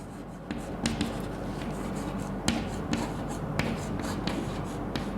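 Chalk or pen writing out an example, a series of close scratchy strokes and taps in an irregular rhythm over a steady hum, with no talking.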